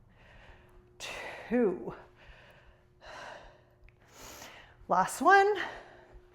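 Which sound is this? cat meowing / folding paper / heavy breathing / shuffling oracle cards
heavy breathing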